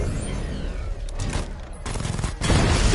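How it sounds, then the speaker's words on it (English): Sustained gunfire from a chain gun in the video game Batman Arkham Knight, a dense continuous rattle of rapid shots with heavy booming impacts swelling louder near the end, no talk over it. "The chain gun's not powerful enough."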